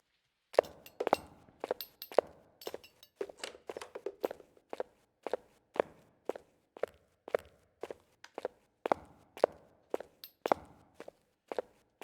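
Ghost footsteps in Phasmophobia pace around a kitchen: a steady run of distinct, moderately close thuds, about two per second, each with a faint clink, with no talk over them.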